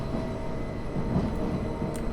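A Class 377 electric train passing in Train Simulator 2014 on the East Croydon to Brighton route, heard as a loud, steady low rumble and rolling roar with a faint high squeal near the end, no talking.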